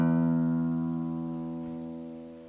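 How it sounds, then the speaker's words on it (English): Low and high E strings of a 12-string guitar's bass course ring together as one sustained, rich E note with stacked harmonics, slowly decaying, alone without talk. "when you play them together, they sound like a really nice, rich E note"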